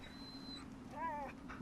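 Dogmeat, the canine companion in Fallout 3, lets out a brief whimper with a high, thin whine followed by a wavering, warbling cry, soft and close over a low game-ambience hum.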